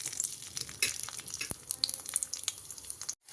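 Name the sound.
crushed garlic frying in mustard oil in a wok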